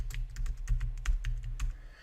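Keystrokes tapping on a computer keyboard while text goes into an Excel spreadsheet cell, a steady run of close, crisp clicks with a few brief gaps, no voices.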